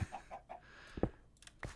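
A chicken clucks in a blocky sandbox game, a few short soft clucks followed by a couple of sharper squawks, close and fairly quiet.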